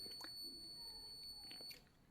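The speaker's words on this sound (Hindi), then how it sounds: "बीप का आवाज़ आ रहा होगा" A multimeter's continuity beep sounds while the output wiring of a Gootu solar inverter is being checked. It is a faint, steady, high-pitched tone lasting under two seconds, with a few light handling clicks and then a sudden stop.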